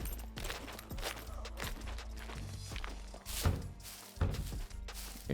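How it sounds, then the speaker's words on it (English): Repeated heavy thuds of an enemy banging on a wooden barn door in the survival game SCUM, irregular knocks and bumps over a dense game soundscape, with a couple of louder impacts near the end. "she can bang in that door all she wants"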